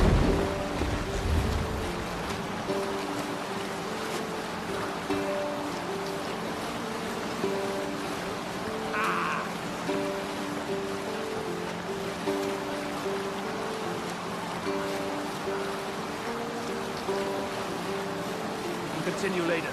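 Ship under sail on the open sea in Assassin's Creed Valhalla, a steady wash of waves and wind around the hull with a low rumble, and game music tones running throughout.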